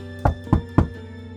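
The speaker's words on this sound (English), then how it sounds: "Anxiously, Haley went to room 203 and knocked on the door." Three firm knocks on a door in an animated story, evenly spaced about a quarter second apart, close and distinct with nothing else around them.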